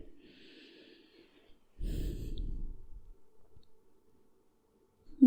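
A slow breath is drawn and released while a yoga pose is held, with one soft exhale swelling briefly in the middle of near-quiet. A faint earlier breath and a small rustle follow.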